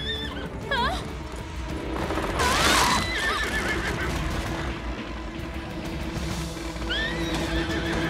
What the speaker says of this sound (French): Oh, Cinder, essaie de l'enlever en tapant des sabots.